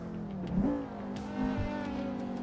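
A BMW race car in an Assetto Corsa or BeamNG driving game sweeps past at speed, its engine note rising into a revving whine and then a second surge, with no one talking.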